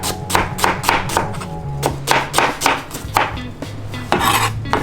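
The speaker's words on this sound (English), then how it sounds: "with the onion, just gonna cut it up real fast and a dice" Rapid, steady knife strokes dice an onion on a cutting board in a home kitchen, a dense run of sharp close taps and chops with a low hum of room noise underneath and no talk.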